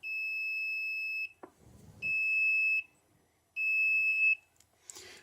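A homemade battery distribution box circuit gives off a loud, steady electronic buzz-tone in three sustained pulses of about a second each, separated by gaps, with faint handling noise between them.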